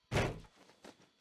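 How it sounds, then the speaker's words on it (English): A body slams hard against a wooden dividing door in a visual novel scene, a loud thud followed by a softer settling knock and another abrupt impact at the end, with no talking. "Slamming into the wooden dividing door close behind her, Yua slid to the floor"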